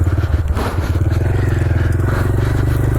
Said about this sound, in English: I didn't realize how rocky this was gonna feel with this little bike